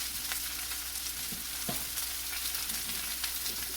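Green beans seasoned with salt and pepper cook slowly in a pot, giving a soft, steady bubbling sizzle with occasional small pops, quiet and continuous with no talk.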